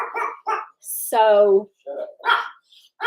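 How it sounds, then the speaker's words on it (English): A dog in a home setting gives one drawn-out whining bark or yelp, close and clear, between stretches of people talking. "So is that dog still over there?"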